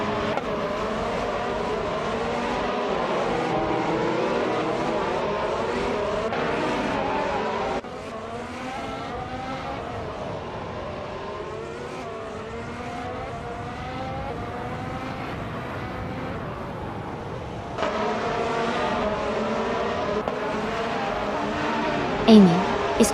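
2016 Mercedes F1 W07 Hybrid race car racing on track, a continuous high-pitched engine whine that rises and falls with gear changes, moderately loud, under commentary.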